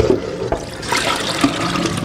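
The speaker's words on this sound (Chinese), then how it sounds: "再用温水清洗干净" Pig stomach being rinsed under warm running water, a steady splashing gush from a tap with small irregular sloshes and knocks as the tripe is handled, close and alone.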